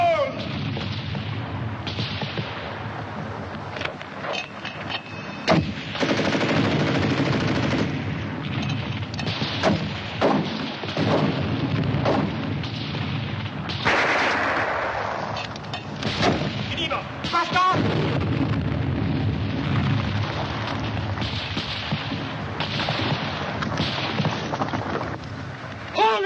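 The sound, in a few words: gunfire and artillery fire in a war film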